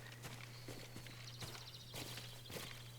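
A horse walks in Ghost of Tsushima, its hooves clip-clopping in a steady, even rhythm, close and clear over soft ambient background.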